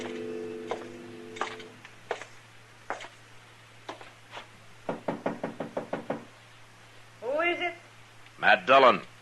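Knocking on a door in an old-time radio drama: a few single raps, then a quick run of loud knocks, and later another burst, all close and crisp under a low hum, with voices speaking briefly between.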